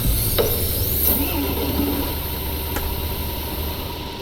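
Bus engine in Tourist Bus Simulator idling with a steady low rumble and broadband hum, a few brief clicks early on, the drone easing slightly as it winds down.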